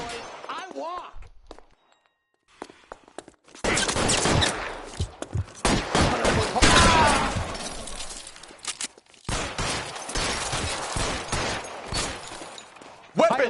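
A shootout in the L.A. Noire video game: after a short lull, loud, sustained bursts of gunfire with shattering impacts fill long stretches, broken by brief gaps, with a few voices under the shooting.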